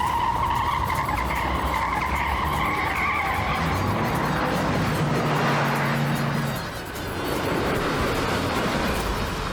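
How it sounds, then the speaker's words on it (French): A speeding car skids with a long, loud tire squeal over a steady roaring engine, a sustained rising screech that fades briefly near the end before the roar returns. "La voiture roule à toute vitesse."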